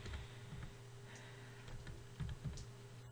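Computer keyboard keys pressed for a Ctrl+Shift+Left Arrow shortcut in Microsoft Word, giving a few soft, close clicks and taps over a low steady hum, no voices.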